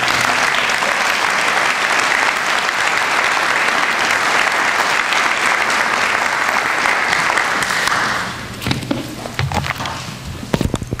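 Steady, dense applause from an audience at a summer Master's hooding ceremony greets a speaker heading to the podium, holding at full strength for several seconds before thinning into scattered claps and footsteps.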